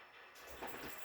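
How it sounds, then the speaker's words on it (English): A northbound HO scale model coal train rolls over a swing gate on a two-deck layout, giving a steady close rumble with a faint rattle of wheels that grows slightly louder partway through. "as you can see from the northbound coal train that just ran over, my swing gate works pretty good"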